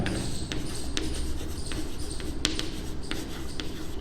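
Pen scratching across paper while a solution to a polynomial remainder-theorem problem is written out, with steady continuous strokes and short taps marking letters and symbols, close and fairly loud with no talking.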